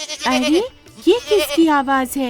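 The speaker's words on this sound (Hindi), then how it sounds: "उसे कहीं से एक बकरी के रोने की आवाज आने लगी।" Cartoon goat bleating, several wavering, plaintive bleats in quick succession, loud and close, alternating with a voice speaking.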